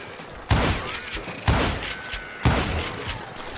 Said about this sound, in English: I wondered why my compatriots didn't come running when they heard the shots